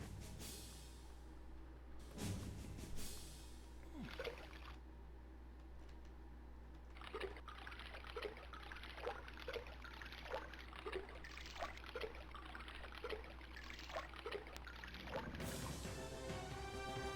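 Water trickles and drips steadily in Alone in the Dark (1992), a soft continuous flow with a regular series of small drip-like splashes over a low hum, faint and alone without voices.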